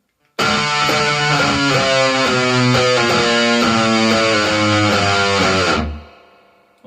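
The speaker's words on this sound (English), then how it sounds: "go to the 12th fret on the low D and start sort of dive bombing down the way" A heavily distorted electric guitar plays a sustained note from the 12th fret of the low D string that dives steadily downward in pitch for several seconds, then cuts off abruptly into silence.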